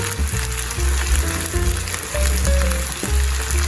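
Chicken pieces fry in a pan for chicken teriyaki, giving a steady, close sizzle with faint popping and a low background hum, no talk.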